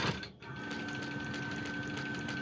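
A Gammill longarm quilting machine stitching a pattern into a chicken quilt: a steady, rapid mechanical chatter with a faint whine, close and continuous after a short dip at the start.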